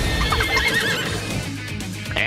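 A horse whinnies loudly and close, a shaky drawn-out neigh with hoof clip-clop, summoned by the Horse Whispering skill in the Miitopia game, followed by a brief bright chime at the end.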